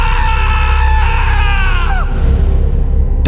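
A man screaming as he wakes from a nightmare, a long loud strained cry that bends downward and cuts off abruptly, leaving a low rumbling hush.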